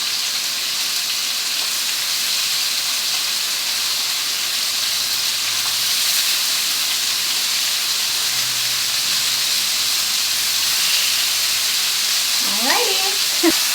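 Salmon fillets frying in a pan make a steady, loud sizzle with a bright hiss that runs unbroken throughout, and a brief voice comes in near the end.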